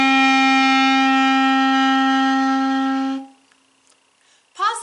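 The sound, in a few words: clarinet playing the note D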